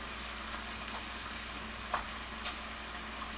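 Steak frying in a pan with vegetables and bacon gives off a steady, even sizzle close by, with a couple of faint clicks over the constant frying hiss.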